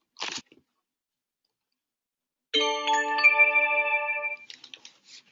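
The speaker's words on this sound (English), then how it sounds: "When you are invited into your lesson, you'll hear an audio notification" Online tutoring notification signalling that it's your turn: a short tick, a pause, then a clear ringing chime with sustained tones lasting about two seconds, followed by a few softer clicks.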